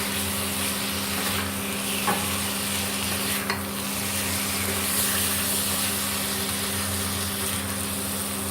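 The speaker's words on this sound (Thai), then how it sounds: "ก็ผัดไปเรื่อยๆค่ะจนปลาหมึกเกือบจะสุกอะค่ะ" Squid being stir-fried in Thai red curry paste for a spicy seafood stir-fry, a steady close sizzle with scraping stirs and a few sharp utensil knocks throughout, no talking.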